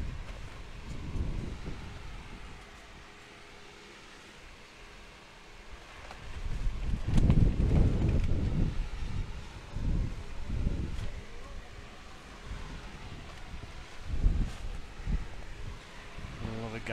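Gusts of wind sweep across the grounds at an outdoor state singles championship, with low buffeting surges that swell and fade repeatedly while voices murmur faintly.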